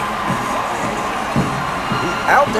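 A crowd at a Miracle League baseball game cheers in short swells and shouts over a steady murmur, growing louder toward the end as a favorite batter comes up.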